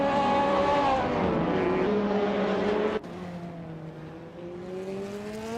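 A 2005 Radical SR3 race car in a racing video game drones along at high revs, a steady engine whine shifting pitch once as it changes gear, close and continuous with no talking.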